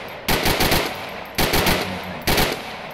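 Machine gun fire from the ArmA 3 CUP weapons mod comes in three short, loud automatic bursts of rapid shots separated by brief pauses.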